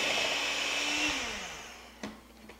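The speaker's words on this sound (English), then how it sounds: "I'm going to continue mixing this for 1 more minute." An electric mixer whirs through lemon olive oil cake batter, a loud steady hum whose pitch slowly drops as it winds down, followed by a sharp knock and quieter clatter.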